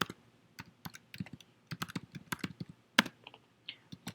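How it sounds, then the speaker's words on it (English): Rapid, uneven keystrokes on a computer keyboard, typing a command during a StrataLink 24 radio firmware upgrade; close, crisp clicks in irregular bursts with one sharper key strike, no voice. "We're going to type the following command: tftp -i,"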